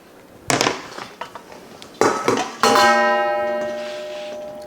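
Clattering kitchen handling of a cutting board being set out on a counter before dicing pork loin, with several sharp knocks and bumps, then a bright ringing metallic clang that lingers and fades slowly.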